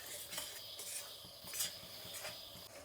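Semolina (rava) roasts over low heat in a pan while a spoon stirs and scrapes it steadily, producing a soft continuous rustling and faint sizzle with repeated scraping strokes.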